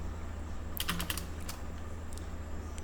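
Someone types JavaScript code on a computer keyboard: a quick burst of crisp, close key clicks followed by a few scattered taps, with no talking.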